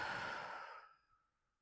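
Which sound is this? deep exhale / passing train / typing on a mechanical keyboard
deep exhale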